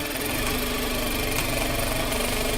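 A sewing machine running and stitching fabric, a steady, fairly loud mechanical whir with a rapid even rhythm that continues unbroken throughout.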